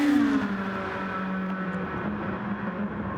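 Race car engine in Gran Turismo 7 screaming down Conrod Straight at Mount Panorama, a steady loud high-revving drone with a brief gear shift near the start, alone with no talk.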